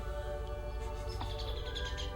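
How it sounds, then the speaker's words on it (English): Birds chirp in short bright tweets over a steady background hum in a scene from the film Mars Attacks!, a few quick calls close together with no talking. "Birds."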